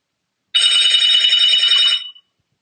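A telephone bell ringing once, loud and close, a continuous bright electronic ring lasting about a second and a half before cutting off into silence.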